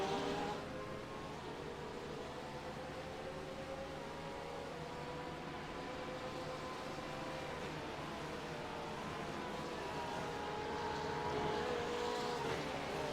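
GT3 race cars at the Hungaroring run close together, bumper to bumper, their engines a steady, sustained roar with rising and falling pitch as they accelerate and shift, heard from a trackside distance.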